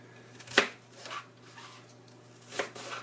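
A knife chops through a very large apple on a board, a few separate crisp thuds spaced unevenly, close and moderately quiet with a faint steady hum beneath.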